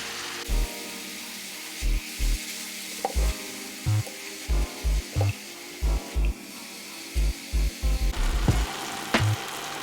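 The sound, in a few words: lean minced beef browning in a pan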